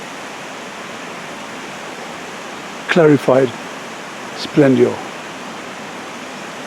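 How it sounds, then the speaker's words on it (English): Broadband steady rush of meltwater streaming down from glaciers near Lake Narda Devi in the Sharda mountains of Azad Kashmir, a constant roar under two brief bursts of nearby talk. "There's water coming down"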